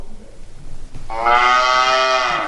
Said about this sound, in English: now if you click on here, this is a cow.